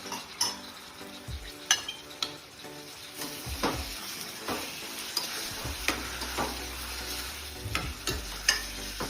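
Finely chopped tomatoes, six or seven of them, frying in a pan for egg curry, with a steady sizzle broken by repeated scrapes and clinks of a spoon stirring against the metal, close and fairly loud.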